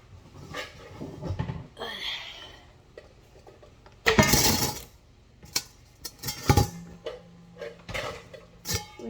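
A large kitchen mixing bowl is handled for an egg-and-oil batter, giving clattering knocks and scrapes in irregular bursts, one loud clunk midway, with a voice in the background.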